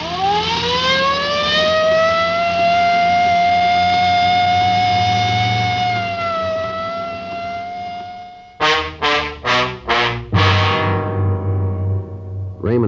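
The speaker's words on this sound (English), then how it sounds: "Well, I better use the light and siren, Frank." A police car siren wails loudly in a long rising-and-falling tone, then breaks into a series of short rapid yelps before resuming, as a radio drama effect with echoing close presence.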